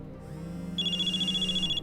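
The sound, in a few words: phone ringing in video game Nancy Drew: Mystery of the Seven Keys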